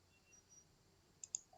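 A pair of quick, faint mouse clicks on a run-code button in a code editor while coding Python exception handling, close and alone over quiet room tone.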